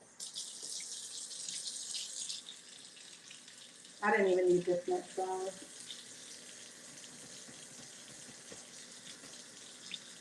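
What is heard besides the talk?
warm water running from the tap into a bowl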